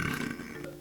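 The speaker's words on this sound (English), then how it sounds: "is there gonna be a compilation of me burping, literally?" A single short, close burp from a young woman, low and croaky, lasting under a second with no talking over it.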